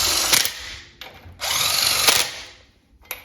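A power drill spins a lug nut onto a brake bridge bolt during a 16-inch brake install on an old Ford truck, two loud whirring bursts separated by a pause, then a short final blip.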